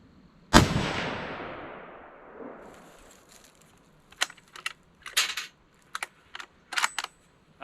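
A single sharp rifle shot from a 7.62x39 handload rings out near and loud, its echo decaying over a couple of seconds, followed by quieter clicks and metallic handling noises of the rifle.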